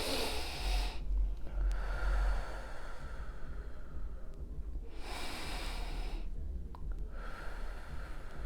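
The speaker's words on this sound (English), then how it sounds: "let's just breathe in and out" Slow, deep breaths drawn in and let out, each long airy inhale and exhale close and steady with short quiet pauses between, no voice over them.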